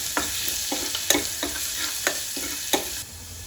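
Minced garlic sizzles in a pan under a steady frying hiss, broken by several sharp scraping stirs spaced roughly half a second apart. It is close and fairly loud, with no voices.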